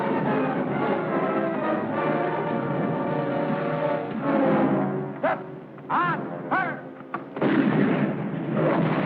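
An artillery gun fires several shots in a 1951 war film. The booms are loud and echoing and ring out over dense, continuous battle noise and a music score.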